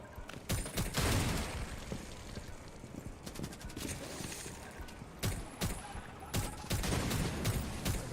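Gunfire in the video game Rainbow Six: Extraction, sharp bursts of shots crackling in clusters over several seconds, fairly faint under a busy game background.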